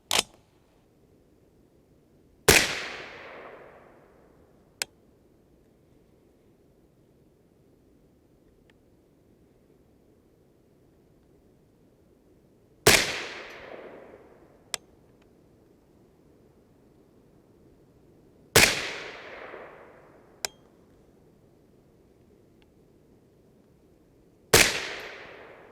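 A 6.5 Grendel rifle loaded with Barnes TTSX and Cavity Back MKZ bullets fires four sharp, loud shots spaced several seconds apart. Each report cracks and then rings off in a short decay, with fainter clicks between shots and quiet gaps.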